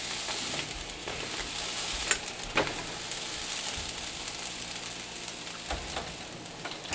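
Chopped beef frying on a griddle at medium-low heat for a chopped cheese sandwich, a steady close sizzle with occasional scrapes and spatula clicks.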